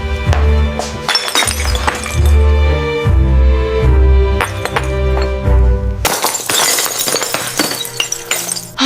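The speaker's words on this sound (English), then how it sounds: "The glass broke into many small pieces on the floor." A glass dropped in a kitchen shatters on the floor. Loud ringing crashes and clinks come in bursts, and a bright spray of breaking shards bursts out near the end.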